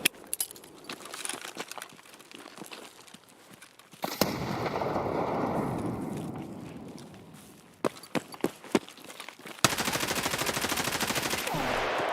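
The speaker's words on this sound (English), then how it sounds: "somebody's shooting at me" Gunfire rings out during a tactical shooter game firefight on a hillside, sharp isolated shots cracking out of a quiet stretch, then a long sustained burst, more scattered reports and a dense rapid volley near the end, all loud and close.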